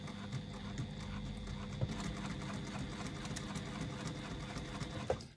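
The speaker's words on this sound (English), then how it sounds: "We're just going to stitch down that line that we've made to join these two panels together." A sewing machine runs steadily, stitching two fabric panels of a retro clutch strap together along a marked line, with a couple of backstitches at the start. The motor hum and needle chatter continue close and even, with no talk.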